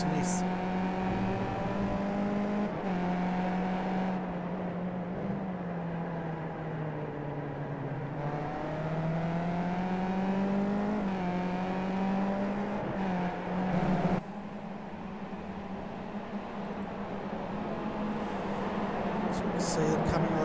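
Race cars lap Interlagos in the iRacing sim, Skip Barber open-wheelers, their engines a steady droning whine that rises and falls in pitch through the gears, heard under continuous commentary throughout.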